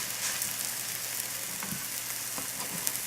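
Steady, close sizzling of a buckwheat almond flour waffle frying in butter, a continuous crackling hiss with faint small pops, no talking.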